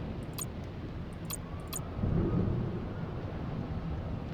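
A thunderstorm in the game 112 Operator: steady rain hisses throughout while a low rumble of thunder swells in the middle, with a few sharp crackles early on.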